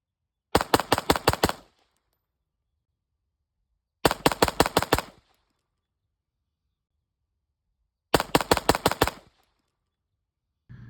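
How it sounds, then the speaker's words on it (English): Three bursts of rapid gunfire from a Bones Defense Alpha Foxtrot Romulus at a shooting range, each a tight string of about six loud, sharp shots, separated by roughly two seconds of silence. "Today I put about 300 rounds through the Romulus, and you saw some of the videos of me shooting there"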